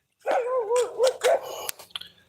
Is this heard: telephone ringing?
no